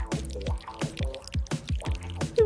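Thick honey drips and pours into a bowl for a homemade fidget toy, a series of about six soft, wet glugging plops in an uneven rhythm, close and alone.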